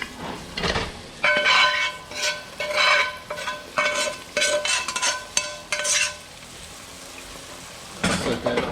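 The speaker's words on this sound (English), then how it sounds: "we're going to put roux in there" Roux going into a pot for shrimp and grits, with repeated scraping and stirring clatter of a utensil against the pot and a soft sizzle, coming in short bursts with brief pauses.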